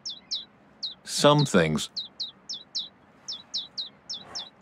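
Hungry baby birds in A New Beginning chirp in short, high, evenly repeated peeps, loud and close, with a voice speaking briefly over them.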